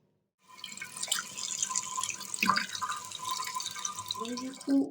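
Running water in a home bathroom shower, a steady hissing spray with splashing drips, moderately close and continuous for several seconds after a brief silence.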